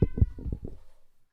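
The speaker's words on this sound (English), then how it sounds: "That was a meow." A cat meows in a short run of about five quick, close, fairly loud calls that trail off into silence, with no one talking over it.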